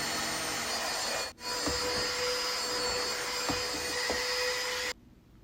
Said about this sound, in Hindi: और अब मैं क्लोज़ेट को पहले अच्छे से डीप क्लीन कर रही हूँ, वैक्यूम कर रही हूँ